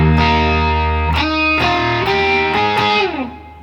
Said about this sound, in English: This time he's going to start with the unison tone at the 5th fret.